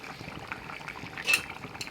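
A pot of tilapia fish curry simmers with a low, steady bubbling, close by. A sharp metallic clink of a utensil against the pot stands out once midway, with quieter clinks after it.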